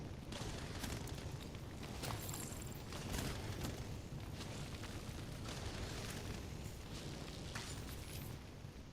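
A grenade blast in The Division 2 gives a dense, rumbling roar with sharp crackling bursts, sustained and loud throughout with no talk over it.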